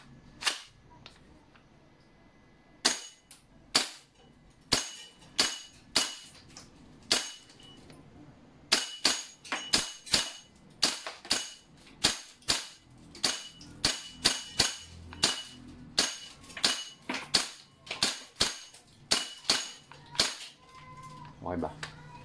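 A BCM MCMR 14.5 gas blowback airsoft rifle is fired while plinking in an office. Sharp, loud cracks come in irregular single shots and quick doubles, dozens in all, each with a brief mechanical clack, close up.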